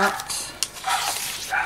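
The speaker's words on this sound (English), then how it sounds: "Why does that dog always bark when I come in my craft room?" A dog barks in short bursts somewhere in a craft room, the sharp yaps rising over soft crinkling and nearby talk.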